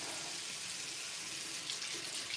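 Water runs steadily from a tap into a sink, a continuous hissing splash with no voices.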